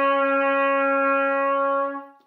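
A trumpet sounds a single sustained E-flat, clean and steady for about two seconds, then fades and stops, alone in a quiet room.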